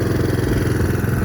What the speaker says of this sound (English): There's absolutely no change in the engine sound.